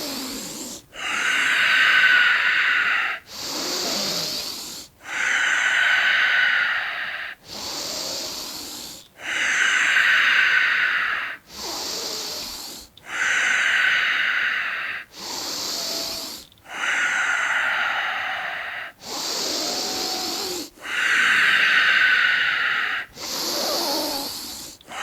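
Slow, deep breathing in a qi and dantian breathing exercise: long airy hissing breaths in a steady rhythm, each lasting a couple of seconds and separated by short pauses, close and fairly loud with no talk.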